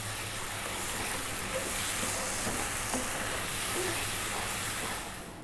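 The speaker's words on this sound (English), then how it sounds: "get our eggs, we're going to drop them in. And we're going to cook this" Eggs cooking in a frying pan of shakshuka, a continuous close sizzle and hiss with faint stirring scrapes, no voices, easing off slightly at the very end.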